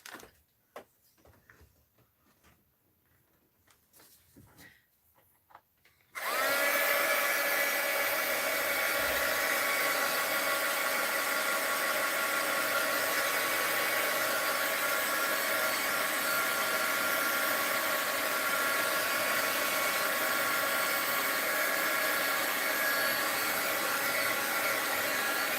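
A heat tool kicks on loudly and blows a steady, rushing whir over a mixed-media art journal page, running continuously after a few seconds of quiet handling.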